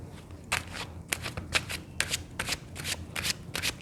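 Tarot cards shuffled by hand in a steady riffling rhythm, about a dozen quick crisp bursts close to the microphone with short pauses between them.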